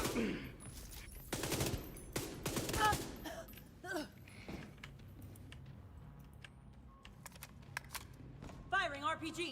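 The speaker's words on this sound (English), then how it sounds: "Firing RPG." Dense bursts of gunfire and explosive blasts come from a tank video game in player-versus-environment action, with a rocket launcher fired among rapid shots, loud and close, followed by quieter clicks and scattered pops.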